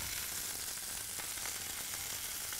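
Food searing in a hot pan, a steady broadband sizzle holding at an even level throughout with no talk over it.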